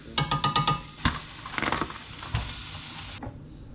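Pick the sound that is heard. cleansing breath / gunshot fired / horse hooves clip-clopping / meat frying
meat frying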